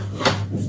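A kitchen cupboard door is pushed shut with a single soft, brief thud over a steady low hum from a nearby machine.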